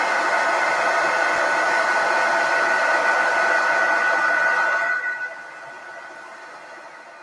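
A hair dryer blows on wet paint with a steady, loud, close whoosh that holds for about five seconds, then cuts off and leaves a quiet room.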